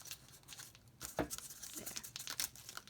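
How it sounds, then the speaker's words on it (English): Adhesive tape being pressed and smoothed down onto plastic straws, giving close, irregular crinkling and crackling with small tearing-like bursts scattered throughout. "So just go along and press the tape down."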